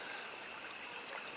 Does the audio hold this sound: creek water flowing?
yes